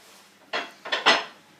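A loaf of bread is lifted out of an oven, with three short metallic clatters and knocks of a tray or tin close by and no talking.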